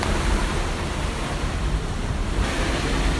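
Broad, steady rush of river water pouring over the Binuang weir, a concrete dam body built across the river in Tapin, South Kalimantan; a dense continuous roar with no talk, fairly loud and unbroken throughout.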